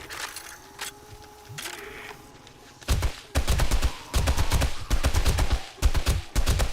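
Bursts of 7.62 rifle fire in the survival game 7 Days to Die, Darkness Falls mod: after a few quiet seconds, loud rapid shots ring out in clustered volleys with brief gaps, no voices.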